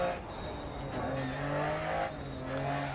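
In the DiRT Rally video game, a Lancia Stratos rally car spins out. Its engine note rises and falls with throttle, and tire noise runs under it, while a voice talks over it in places.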